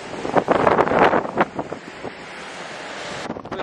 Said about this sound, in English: there's still like wind that comes in here and sand that gets in your eyes